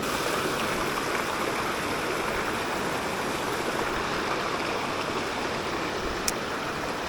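Fast-flowing trout stream rushing in a steady, loud broadband wash that stays constant throughout, with one brief faint click near the end.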